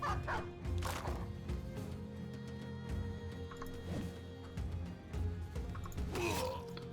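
A war dog barks in a Battle Brothers battle, several separate barks and yelps spread through the clip over a steady bed of game noise.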